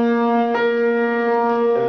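A flute sustains a single B flat, one steady held tone, clear and close with a slight breathy attack partway through, played alone without talk.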